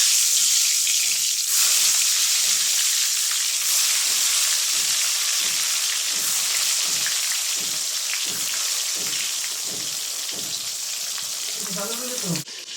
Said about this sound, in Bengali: এখন আমি ভাজিগুলো করে নেব।